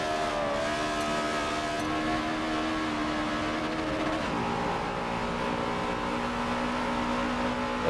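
Race cars lapping Watkins Glen in a sim racing game, a steady dense engine drone with layered whining tones that shifts pitch midway as cars work through lapped traffic, loud and continuous with no talk.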